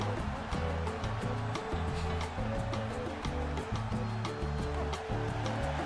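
A gushing toilet flush is layered over pounding, rhythmic wrestling entrance music in WWE 2K25, with the water rush and beat running together loudly throughout.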